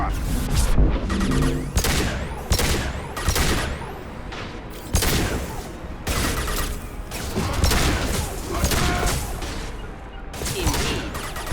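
Dense, sustained gunfire from the Impact shot in Mass Effect 2 on PC, a rapid barrage of loud, close shots and booming impacts that continues almost without pause.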